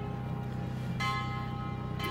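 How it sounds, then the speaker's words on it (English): Temple bell ringing at a Hindu temple in Little India, Johor, with two bright ringing onsets about a second apart, heard at a distance over steady street ambience. "So you can hear the temple bell."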